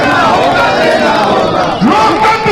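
A dense street crowd roars and chants continuously at an INDIA alliance protest march in Ranchi, loud and close, with overlapping shouting voices and no pause in the din.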